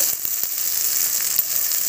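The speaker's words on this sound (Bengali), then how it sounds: "দিয়ে এবার পেঁয়াজটাকে খুব ভালো করে ভাজবো।" Onions frying hard in a pan with chopped tomato and green chili for a Bengali bhetki fish dish, a steady bright sizzle with a few soft clicks of a spatula, close and alone.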